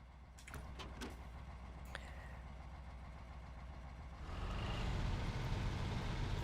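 A lightweight truck drives across icy ground in SnowRunner, its engine droning steadily up close, then growing louder and rougher as the load rises partway through. There is no talk.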